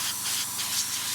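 Continuous airbrush spraying black paint, a steady soft airy hiss with slight pulsing, close up and alone.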